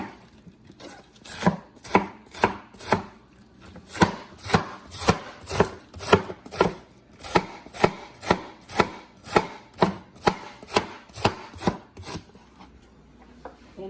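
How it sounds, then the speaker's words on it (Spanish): A knife chops cabbage very finely for chicken pozole verde, about two dozen steady, evenly spaced strikes, crisp and close, with no voices. "Ahora vamos a picar el repollo."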